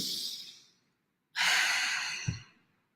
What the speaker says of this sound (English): So take a nice deep breath.